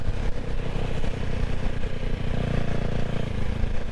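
A minimalistic motorcycle with a monoshock rear engine revving, a loud close throaty roar holding steady and swelling briefly partway through.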